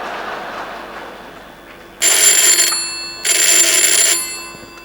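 An old telephone rings for a long-distance STD call, two loud, buzzing electric rings of about a second each separated by a brief gap, coming in over a quiet room.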